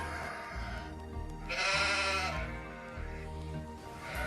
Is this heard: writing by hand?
no